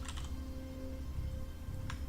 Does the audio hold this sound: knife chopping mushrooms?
no